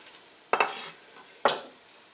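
A large chopped sweet onion goes into melted butter and four cups of celery in a pot, two quick scraping stirs with a brief soft sizzle after each, over a quiet background.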